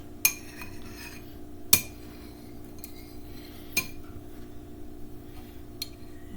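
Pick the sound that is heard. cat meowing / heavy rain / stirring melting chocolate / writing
stirring melting chocolate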